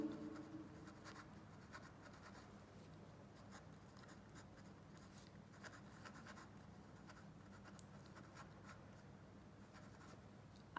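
Pen scratching steadily across paper as handwritten notes are taken, a continuous close scratch with small rhythmic strokes, no voice over it.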